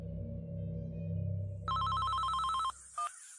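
Electronic telephone ringtone, a steady trilling tone pattern that cuts in, holds for about a second, stops, then gives one short final chirp, over a low rumbling background with no talk.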